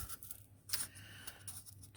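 Scissors snip through paper scraps while a 3D bird is shaped from a toilet paper tube, a few short, quiet cuts close by over a low hum.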